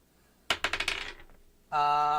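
Dice tumbling across a table during a tabletop role-playing game, a quick burst of rattling clicks that die away, followed by a steady bright ringing tone.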